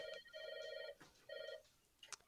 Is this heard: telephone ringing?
yes